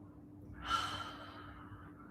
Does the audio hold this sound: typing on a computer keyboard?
no